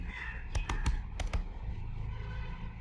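Typing on a Mac keyboard: a short burst of about six quick, crisp keystroke clicks, close by, over a steady low background hum.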